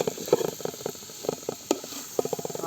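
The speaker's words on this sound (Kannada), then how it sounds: "6ರಿಂದ 7 ಈರುಳ್ಳಿನ ಕಟ್ ಮಾಡ್ಕೊಂಡು ಇಟ್ಕೊಂಡಿದ್ರವನ್ನ ಅದನ್ನು ಹಾಕ್ತಿದ್ದಾರೆ" Six or seven chopped onions fry in a pot for chicken curry, giving off a steady hiss with scattered small crackles and pops, close and moderately loud.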